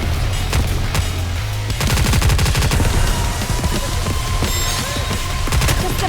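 Rapid gunfire in the Nikke video game: dense, loud bursts of automatic shots crackle almost continuously, with brief pauses between volleys.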